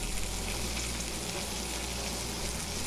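A whole chicken sizzles and fries on a hot flat top griddle, a steady dense crackle holding evenly from start to finish with no talk over it.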